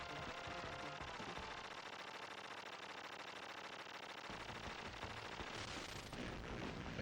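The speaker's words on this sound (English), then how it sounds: "The spread gun replaces your normal gun." The spread gun fires in the Contra: Hard Corps video game, rapid continuous blasts layered with game explosions and music, dense and unbroken.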